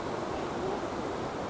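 Broad, steady roar of a waterfall in Scotland, heavy flow pouring over and throwing spray into a river below, loud and close with constant rushing water and no let-up.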